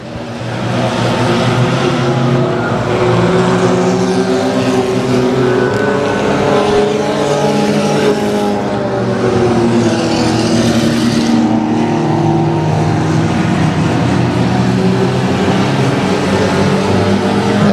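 Several race cars lap Houston Motorsports Park, their engines roaring loudly and continuously, with overlapping pitches rising and falling as cars pass nearby.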